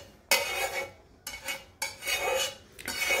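Sautéed onions being scooped from a pan into a bowl for chicken spaghetti, three or four close bursts of metal utensil scraping and clinking against cookware, each lasting under a second, with no talk.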